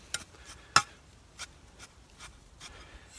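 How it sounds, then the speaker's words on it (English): Hands loosening old potting mix in seedling cells before planting lettuce, giving a few soft, scattered scratchy rustles, quiet and close, with gaps between them. "I'm just loosening that soil"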